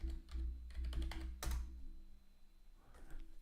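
Someone types a word guess on a computer keyboard in a quick cluster of close, crisp key clicks, and a few scattered taps follow over a low background hum.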